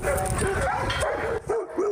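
A rescue dog at an animal rescue society yips and whines in quick, high-pitched bursts, close and loud over busy background noise.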